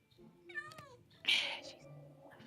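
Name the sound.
cat meowing in Minecraft video game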